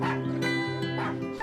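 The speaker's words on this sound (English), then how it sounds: "you start hearing the puppy barks in the background" A puppy's yips and whimpering barks from the Budweiser Puppy Love Super Bowl ad, several short high yelps set against a sustained musical backing.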